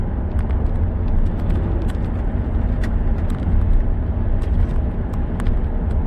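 A 2009 GM 4x4 with a 4L60 transmission and a torque converter that shudders, slips and chatters drives at 40 to 50 mph, giving a loud, steady drone of engine and road noise with faint ticks above it.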